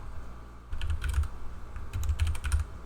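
Quick bursts of keystrokes on a PC computer keyboard, two clusters of close, crisp clicks separated by a short pause, with no talking.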